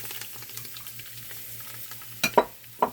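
Chopped onion, celery and bell pepper hit a dark roux for gumbo, giving a soft steady sizzle with a few sharp utensil scrapes and clinks near the end.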